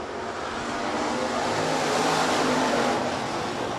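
USRA Hobby Stock race cars roar around the Rapid Speedway oval during a heat race, a loud, continuous wash of engines that swells slightly as the pack passes, with no talking.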